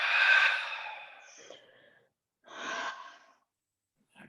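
A deep yoga exhale in a bound-angle seated pose: a long sighing out-breath that fades gradually, followed by a shorter second breath, close and quiet with no speech over it.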